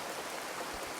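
Steady rain falls in an even, hissing wash of noise that holds at a constant level throughout, with no voices.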